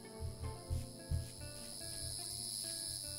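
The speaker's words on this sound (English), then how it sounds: "This little cicada voxel making all that noise." A cicada voxel in a video game chirps continuously, a high buzzing drone held steady throughout, with a few soft low thumps near the start.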